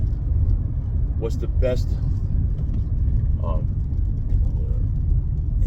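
Steady low road rumble inside a moving car, continuous throughout with someone talking briefly over it.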